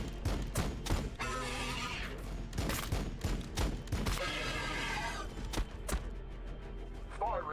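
Rapid bursts of gunfire from units in Warhammer 40k Battlesector, sharp repeated reports and volleys layered over a dense, continuous battle din with heavy low rumble, loud throughout.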